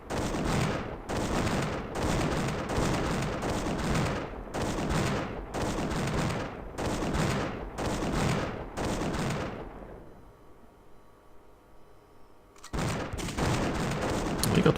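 Dense gunfire and artillery in an auto-resolved battle in the strategy game Imperialism: loud rapid volleys in about nine bursts, a quiet pause with faint hum, then another heavy burst at the end.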